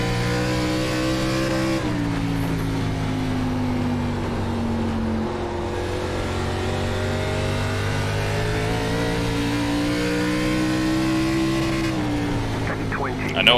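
Race car engines in iRacing's ARCA Series at Nashville Fairgrounds Speedway, a loud sustained roar that holds steady, drops in pitch, then climbs again as the car drives off a corner and accelerates down the track.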